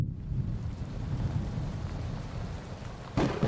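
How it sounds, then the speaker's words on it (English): Low, steady thunderstorm rumble with a wash of rain, distant and continuous, building slightly toward a brighter burst at the end; no voices. "you hear a low rumble as the skies of Wonderland quickly turn overcast and a thunderstorm begins to roll in"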